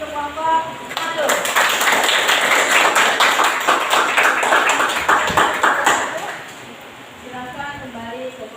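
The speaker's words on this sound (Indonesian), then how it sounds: "Kita beri aplaus dulu untuk kelompok satu." A group bursts into applause for the presenting group in a classroom session, a dense burst of clapping lasting several seconds that fades out, with voices talking before and after it.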